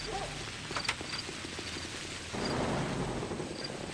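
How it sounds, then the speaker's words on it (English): Thunder rolling through a stormy in-game night in Pathologic, a low rumble swelling suddenly after a couple of seconds and holding steady over a constant backdrop of rain. "having the lightning strike and then hearing the thunder"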